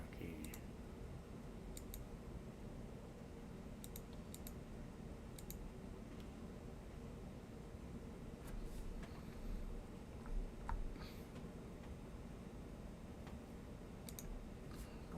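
Computer keyboard keys pressed in scattered, quiet clicks and short bursts, faint against a low steady room hum, with someone talking intermittently in the background.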